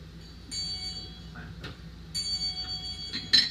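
A small bell tuned to F sharp rings twice, each bright metallic tone hanging in the air and slowly fading, with light knocks and handling noise around it.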